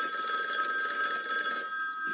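A telephone rings in the 1974 horror film Black Christmas, a steady electric ringing tone that holds for about two seconds, clear and alone with no voices.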